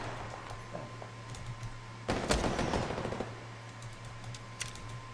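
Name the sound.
sniper rifle shots in the video game Apex Legends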